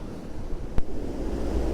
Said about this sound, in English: these waves have really mellowed out quite a bit. It's nowhere near as choppy as what it was